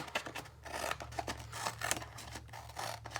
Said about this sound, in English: get my scissors going as close to that line as I can